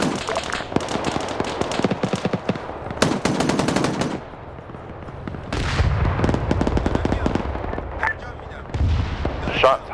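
Anti-tank shots and automatic gunfire in a military video game set in a Taliban opium operation: dense rattling bursts and sharp cracks, several loud close volleys broken by brief lulls, with a voice speaking underneath.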